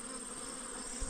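A brief, steady hum of honey bees buzzing close at an open hive, swelling slightly at the end, with no voices.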